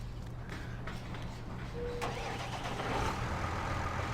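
A Case tractor engine turns over and catches in Farming Simulator 19, settling into a steady mid-pitched idle rumble that swells slightly toward the end, with no talking.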